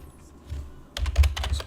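Brief clicks of typing on a computer keyboard during a Magic: The Gathering Duel Commander game, faint scattered taps followed by a quick, louder burst of keystrokes.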